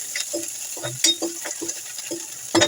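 Onions frying in a pan: close, crackling sizzle under repeated scrapes and clinks of a spoon stirring against the pan, in an uneven rhythm with a sharper knock near the end.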